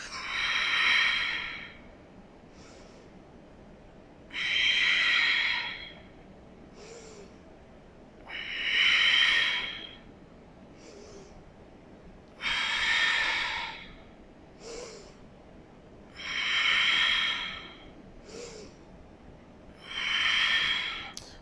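Slow, deep breathing during a Pilates side bend, with long, loud breath cycles recurring about every four seconds, each followed by a short, softer breath, close to the microphone with no talk.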